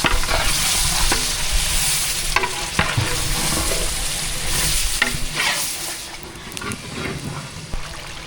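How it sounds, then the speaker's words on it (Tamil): Mutton is stirred with coconut milk in a pot for a mutton biryani gravy: a loud, close, continuous wet sizzle and bubbling with irregular scraping strokes of the stirring spoon throughout. "நல்லா கலந்து விட்டுக்கலாம் தேங்காய் பாலோட."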